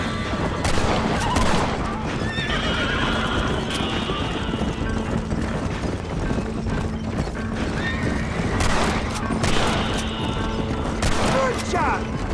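Gunshots in the Red Dead Redemption video game amid clattering horse hooves and whinnying, scattered sharp reports breaking through a busy galloping din with voices calling out over it.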